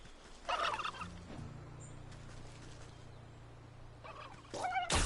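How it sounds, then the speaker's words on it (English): Turkeys gobble in the video game Wytchwood, a few bursts of rattling gobbles near the start and again at the end, over a quiet, low background hum. "It's a bunch of turkeys"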